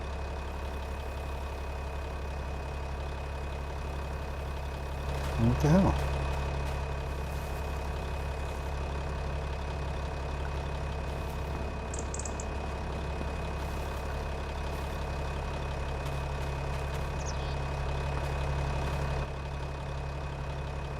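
A tractor engine idles steadily with a low, even drone that holds for the whole stretch, and a brief clatter stands out partway through. A voice speaks once over it.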